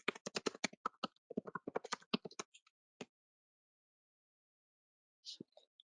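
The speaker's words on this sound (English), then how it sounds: "I'll type my corporate email into here" Rapid keyboard typing on a computer keyboard while entering an email address, a dense burst of clicky keystrokes for about two and a half seconds, then a lone tap and a short soft clatter, close and clear with no talking.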